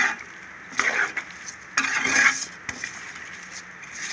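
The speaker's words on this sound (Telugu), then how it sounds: "చూసారా, అంతా కలిపిస్తున్నాను." A spiced onion mixture with salt, chili powder and garam masala is stirred in an oiled pan, giving scraping strokes in uneven bursts over a soft, steady sizzle, up close.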